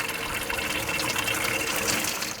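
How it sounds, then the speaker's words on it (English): Water gushing steadily out of the hot-side valve of a tankless water heater as it is flushed and descaled, a loud, continuous rushing flow that stays close and constant from start to finish. "that will let water start to flow out of the hot, and this is rinsing out whatever was left in the heater."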